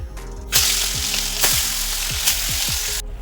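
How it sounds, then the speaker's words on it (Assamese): Fish rubbed with salt and turmeric frying in hot oil in a home kitchen, a loud continuous sizzle with a few sharper bursts of spattering, close and alone. "এতিয়া মোৰ মাছখিনি ভজা হৈ গ'ল"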